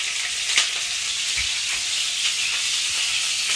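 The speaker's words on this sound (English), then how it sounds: "Now you want to fry your 2 chilies" Two chilies fry in oil over low heat for a salmon and cauliflower curry, giving a loud, steady, close sizzle and hiss with occasional soft pops and stirring clicks.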